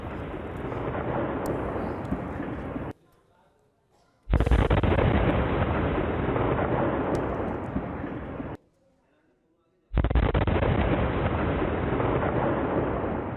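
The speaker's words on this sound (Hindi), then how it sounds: "काफी दूर से जो सीसीटीवी में रिकॉर्ड हो उसमें भी एक रोशनी और एक आग का एक बड़ा गोला नजर आता है जैसे ये ब्लास्ट हुआ" Large blasts roar out in two long loud bursts with short near-silent gaps between them, apparently a repeated loop of the same explosion captured by distant security camera footage in Nowgam, heavy and rumbling throughout.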